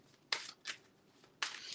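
Tarot cards being shuffled by hand in three quick bursts, crisp riffling flutters close by with brief quiet gaps between, no voice over them.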